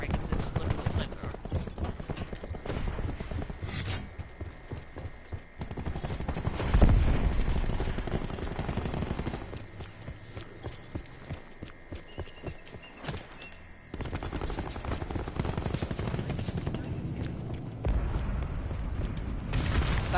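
Gunfire in a Call of Duty match, bursts of shots and game effects running continuously and fairly loud throughout, mixed with other in-game sounds and occasional talk.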